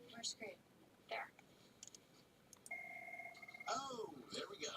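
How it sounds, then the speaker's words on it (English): A telephone rings in a movie scene with a steady electronic tone lasting about a second, set among quiet whispered voices and small clicks. "Phone's ringing."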